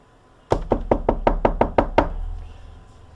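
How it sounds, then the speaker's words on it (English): Knocking on a front door: a quick run of about eight sharp, evenly spaced raps, close and loud, then the sound dies away into quiet room tone. "Someone was knocking on the front door."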